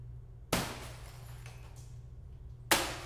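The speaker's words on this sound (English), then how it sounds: "some really great glass breaking stuff" Glass breaking from a destruction sample library: two sharp, loud shattering hits a couple of seconds apart, each bursting bright and then decaying into scattered tinkling over a low steady hum.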